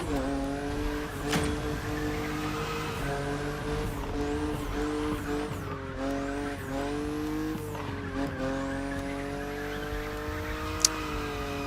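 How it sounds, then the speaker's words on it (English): A car drifting in a drifting competition in the racing video game The Crew Motorfest, its engine droning steadily with rising and falling revs while tires squeal continuously through the slides, loud and sustained with no voices. "See, like, these drifting competitions they're super fun."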